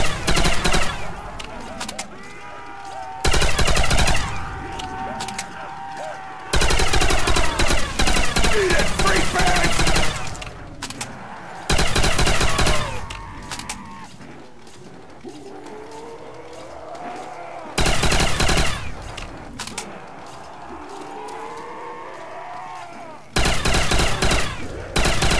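Upgraded Browning machine gun and BAR Widowmaker fire in Call of Duty: World at War zombies on the Labyrinth der Untoten custom map, loud sustained bursts recurring in blocks between quieter stretches of game sound.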